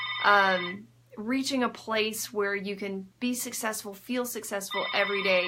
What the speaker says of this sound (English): I apologize for the phone ringing.